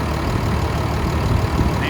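A 2015 Ford F-750 box truck with a 6.7-liter Cummins diesel and Allison transmission idles steadily at close range, a dense, even rumble with no change in pitch or load.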